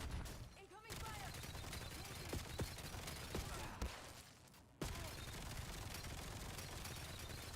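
Automatic gunfire in the Call of Duty Black Ops 7 video game crackles in dense, sustained bursts, with a sharp shot near the end, over a busy game soundscape.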